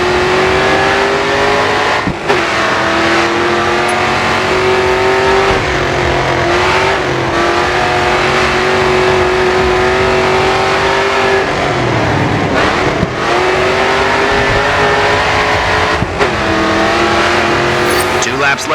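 Race car engines in the GRID 2 racing game rev hard and drone continuously, rising and dropping with gear changes, with brief tire squeals, loud and close throughout.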